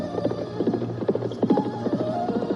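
A ridden horse approaches with a steady run of rhythmic hoof clip-clops over a low background hum, fairly close and with no talking.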